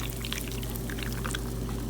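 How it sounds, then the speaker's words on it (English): Almond milk poured over blueberries and bananas in a bowl, a steady close liquid stream with faint splashing, continuous for the whole moment against a low background hum. "here is the almond milk. You have to shake it up, and then I just pour it on there"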